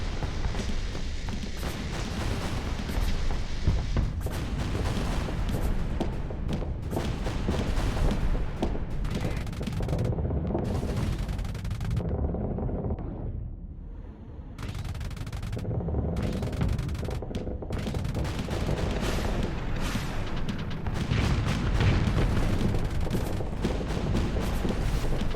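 Spaceship weapons in the space combat game Starsector fire in dense, continuous bursts of rapid shots and booming impacts, loud and sustained, with a brief lull midway before the barrage resumes.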